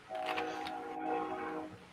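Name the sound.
train passing nearby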